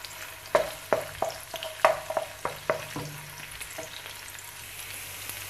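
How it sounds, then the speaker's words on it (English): Ginger garlic paste browns in hot oil for a Bengali-style chicken curry, giving a steady close sizzle with a run of sharp spatula clicks and stirs that thin out toward the end, and no voices. "I'm waiting for the ginger garlic to brown."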